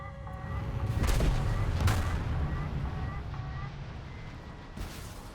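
In a video game, a PL-8B infrared missile launches and strikes with a roaring rush and two heavy booms close together, over a constant engine drone.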